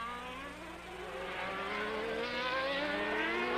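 Jean Alesi's Formula 1 car engine at the French Grand Prix wails at high revs with rising and falling harmonic tones, growing steadily louder as it closes in and holding a continuous strained scream.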